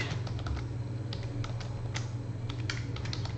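Steady, quick keystrokes on a computer keyboard as a Python print command is typed inside a Docker container, close and clear over a low constant hum, with no talking.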